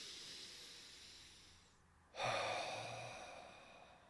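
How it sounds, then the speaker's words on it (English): A slow, deep inhalation during a guided tapping relaxation exercise, a soft airy breath drawn in steadily, fairly close and quiet, with no talking over it. "Deep breath in."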